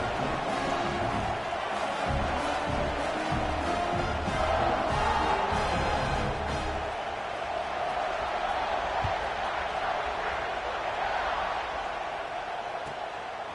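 A stadium crowd roars continuously in the college football video game CFB 26 as a kickoff approaches, a dense, steady wash of cheering and crowd noise that swells slightly mid-way and holds loud throughout.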